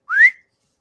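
A single short rising whistle, a quick upward swoop, sharp and close, then silence.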